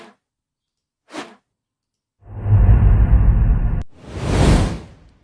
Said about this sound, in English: you can do swoosh